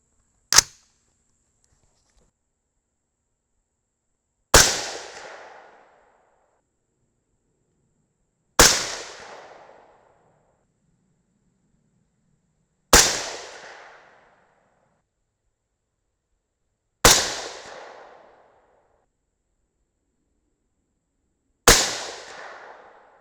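Six rifle shots from a .224 Valkyrie firing hand loads of H4350 powder under 90-grain Sierra MatchKing bullets, each a sharp loud crack with a short decaying tail, spaced about four seconds apart, with silence in between.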